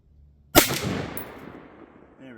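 A single sharp rifle shot from a 6.5mm rifle firing a North Fork 140gr semi-spitzer bullet at a target range, loud and close, with a long rolling echo that fades over two seconds.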